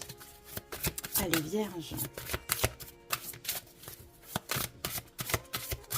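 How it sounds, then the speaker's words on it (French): Oracle cards being shuffled and drawn, a rapid run of crisp flicking and riffling snaps with brief pauses, close and fairly loud, while someone speaks briefly over them. "On va voir avec l'oracle interdit de Sherazade, on va prendre 2 cartes."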